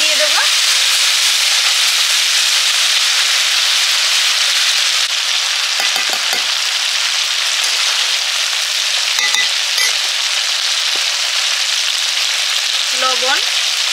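Cooked rice goes into a hot pan with vegetables, soy sauce and vinegar for veg fried rice, sizzling loudly and steadily for the whole stretch with occasional spatula scrapes and faint clinks.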